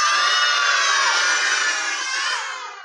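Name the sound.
children imitating an elephant screaming in pain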